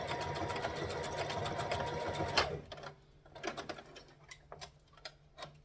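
A sewing machine stitches a seam in a rapid, steady mechanical whir for about two and a half seconds, then stops, leaving faint clicks and handling noises.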